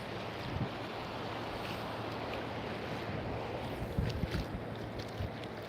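Continuous ocean wash and wind rumble against the microphone, a dense unbroken hiss of surf with a few louder gusts and bumps near the end, no voices.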